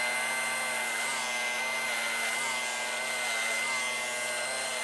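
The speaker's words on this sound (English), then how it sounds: "and use the clipper" An electric hair clipper with suction runs at a steady high-pitched whine while cutting a man's hair, a constant drone that never lets up for the whole stretch.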